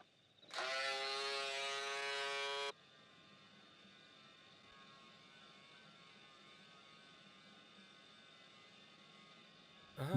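A close electric shaver buzzes loudly for about two seconds, then switches off, leaving a faint steady mains hum in a quiet room.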